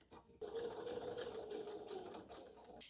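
A sewing machine stitches the last seam of a messenger handbag toward the D-ring, a close, steady mechanical whir running for a couple of seconds after a brief start, quiet overall.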